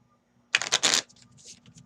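Lenormand cards riffled in a hurried shuffle at a table, a dense burst of crisp papery flutters followed by softer scattered card slides, close and alone.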